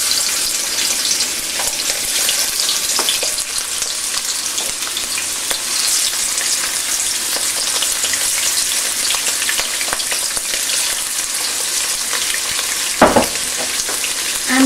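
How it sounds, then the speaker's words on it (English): Shrimp pieces fry in a little hot oil with a loud, crackling sizzle that runs close and unbroken for about fifteen seconds, with a clatter near the end. "So I start adding the pieces of shrimp."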